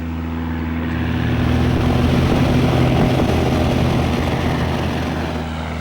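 A propeller plane flown by pilot Jan Luppen near Wangerooge Airport on Germany's North Sea coast drones steadily and loudly, with a low engine hum that swells in the middle and eases toward the end, no voices over it.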